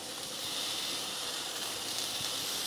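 Tomato paste sizzling in a hot pan as it caramelizes, a steady close hiss that holds unbroken, with no talking.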